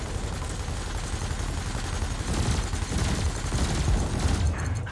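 Ship cannon fire in the space game Elite Dangerous, aimed at floating canisters: a continuous, dense barrage of booming shots rolling on for the whole stretch, loud and close, with a heavier burst partway through.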